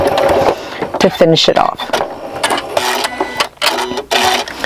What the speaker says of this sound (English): I'm just going to back stitch as I get to that white mark